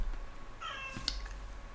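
A house cat gives one short, rising meow, fairly faint against a low background hum.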